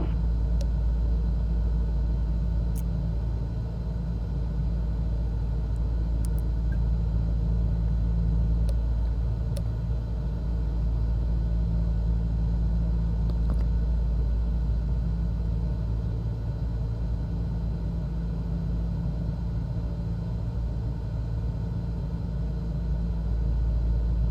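Cessna engine during takeoff in Microsoft Flight Simulator 2020, a loud steady low rumble and droning hum held constant throughout, with only faint clicks on top.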